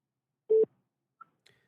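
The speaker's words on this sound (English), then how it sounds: "At the tone, record your message." A single steady beep from a phone voicemail system, short and clean at moderate volume, followed by two faint clicks in otherwise silent surroundings.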